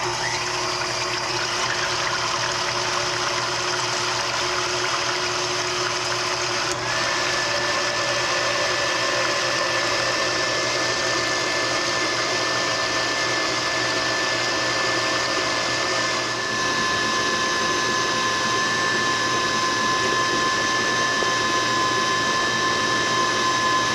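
A kitchen mixer or similar appliance whips cream into homemade butter on a low setting: a steady whirring motor hum with a sustained tone that shifts slightly partway through, continuous and close, with no talking.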